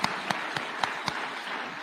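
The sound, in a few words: applause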